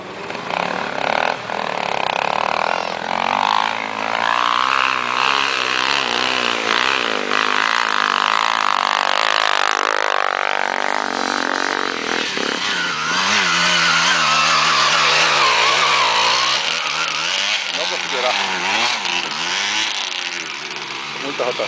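Several off-road vehicles rev their engines hard and high while struggling up an obstacle climb, a loud, continuous strained roar with rising and falling pitch, mixed with crowd voices shouting throughout.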